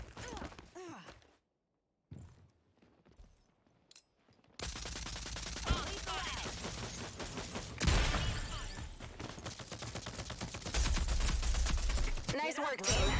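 Sustained automatic gunfire from a first-person shooter match in Rogue Company, dense rapid bursts after a quiet opening, loud and close, with brief voice chatter mixed in.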